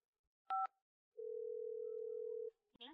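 A phone call is placed, with a brief double-toned keypad beep followed by a long, steady ringing tone lasting over a second, quiet and isolated before a faint click at the end.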